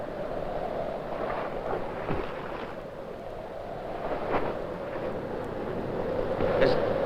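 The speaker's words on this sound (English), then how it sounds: "This damn wind." Wind blowing over open sea around a small boat near the Dutch coast, a steady broad rush with occasional gusts and water noise, fairly loud and continuous with no talk.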